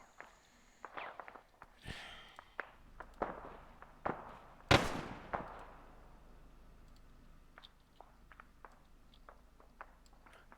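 Gunfire from a military video game aimed at a tower: scattered single pops at irregular intervals, one much sharper crack near the middle, all fairly distant and quiet with no voices.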